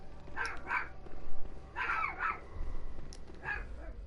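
Several dogs bark in short bursts inside the Bloodborne video game, a few yaps spread across the moment at moderate distance over a low rumbling game ambience.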